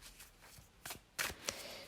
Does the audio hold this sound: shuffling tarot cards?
yes